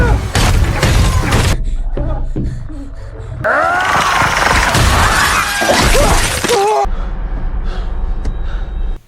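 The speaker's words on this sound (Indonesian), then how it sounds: "Kini justru Pennywise hampir berhasil memecahkan kaca tersebut" In a horror film scene, Pennywise pounds at and nearly breaks a glass pane, giving heavy crashing blows, sharp shattering bursts and deep booms, with gasps and other sounds mixed in between the loud impacts.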